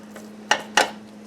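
Meatloaf mixture is spooned into a greased loaf pan, with two distinct close clinks of a spoon against the pan over a quiet, faint background hum.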